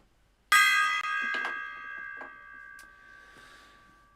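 A tiny gong is struck once. It rings out bright and loud, then its metallic tone slowly fades under faint background knocks.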